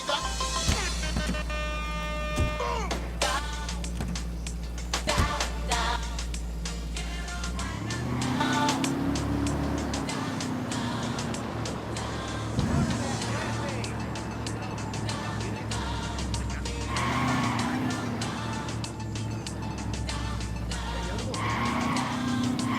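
A vehicle driven in the Ghost Recon Wildlands video game roars with engine hum and repeated tire skids, with the engine note shifting and rising as it speeds along, game sounds and music layered over it.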